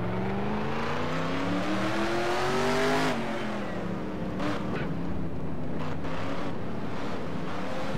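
Race car engines in the NASCAR Racing 2003 video game at Watkins Glen, a steady loud roar whose pitch climbs for about three seconds, then drops and settles into a continuous rumbling drone.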